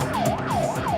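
Ambulance siren wailing in steady rising and falling sweeps, loud and close, on its way to a pedestrian accident on Avenida Presidente Vargas near Cidade Nova station, with traffic rumbling underneath.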